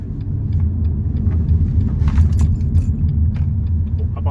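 BMW X2 sDrive 18i 140 hp picking up speed, heard from inside as a steady low engine and road rumble with light rattles and clicks of loose items in the cabin.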